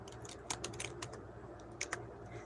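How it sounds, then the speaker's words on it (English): Rapid keyboard typing with clustered key clicks over a low steady hum, close and fairly quiet, no voices. "I'm typing it in."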